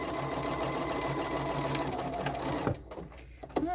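A sewing machine stitches a pink-and-black collage quilt with a steady, fast mechanical whir that stops abruptly near the end, followed by a few small clicks and handling noises.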